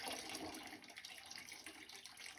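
Water drains steadily from a 40-gallon hot water tank, a faint, continuous trickling splash like a running tap, with no talking over it.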